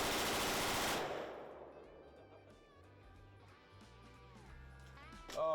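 A Stoner belt-fed machine gun rips off a dense full-auto burst at close range, then the fire cuts off and a quieter stretch with faint voices and ringing follows before a sharp final crack.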